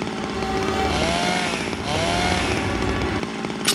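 A chainsaw revs loud and continuous from start to end in the video game Zero Time Dilemma, with its engine whine rising and falling and a sharp burst near the close.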